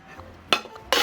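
Stainless steel pans stack together into a single set, giving two sharp metallic clanks about half a second apart, close and distinct in a quiet room.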